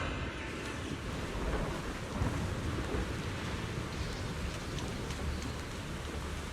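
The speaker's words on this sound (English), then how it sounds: "Clear sky turns dark with heavy clouds, thunder and lightning crackles, and Hurricane threatens to swallow the entire hidden realm." Thunder and a heavy rainstorm in the video game Zenless Zone Zero, a continuous loud roar of rain with low rumbling underneath, close and without talk.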